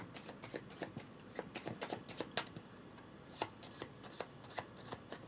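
Playing cards being shuffled for the Votes for Women board game, a run of quick riffling bursts and soft slaps close by, coming in uneven clusters with brief pauses between them.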